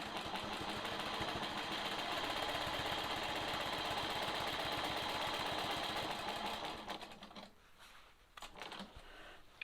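A sewing machine stitches steadily during free-motion quilting guided by a long ruler, its rapid needle chatter running continuously and fairly loud before slowing and stopping near the end, followed by a few faint handling knocks.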